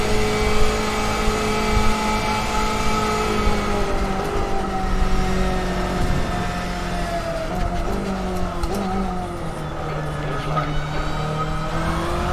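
Race cars in a 24 Hours of Le Mans racing sim roar steadily, engine pitches sweeping up and down as cars approach and close in, with brief tire squeals over the continuous, loud drone.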